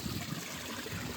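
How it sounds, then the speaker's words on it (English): Water pours steadily into a measuring bowl beside a koi pond, a faint continuous trickling splash heard close up with no talk. "measuring bowl, bit of water in"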